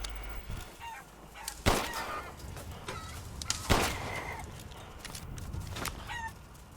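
Chickens in Resident Evil Village cluck and crow, with a couple of loud sharp squawks standing out against steady ambient noise.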